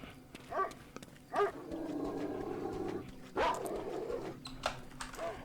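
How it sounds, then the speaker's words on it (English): Dogs in the video game Dark Skies 2 bark and whimper a few times at moderate distance, with short yips scattered over a low rumbling game background. "And we have some more dogs."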